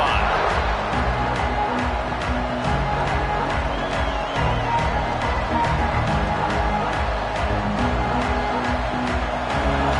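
A college football stadium crowd roars and cheers steadily during an SMU versus Michigan State game, a dense, loud wall of noise with a commentator talking over it.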